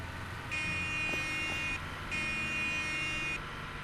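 A vehicle horn in the game SurrounDead sounds in two long, steady electronic tones with a short gap between them, loud and close over low ambient rumble.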